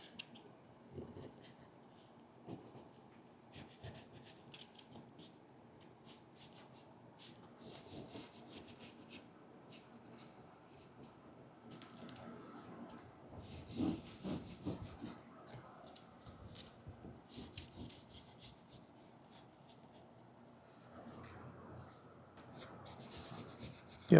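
A pen or marker draws lines across sun visor upholstery fabric in a workshop, giving soft scratchy strokes and rubbing in uneven bursts, close and quiet, with no talking.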